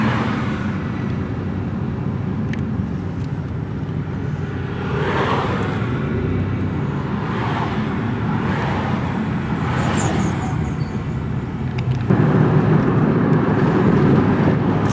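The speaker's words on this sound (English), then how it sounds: "Traffic jam here." Cars idle and creep in a traffic jam near a street parade, a steady low engine rumble from inside a vehicle with passing swells of nearby motors, moderately loud and unbroken by talk.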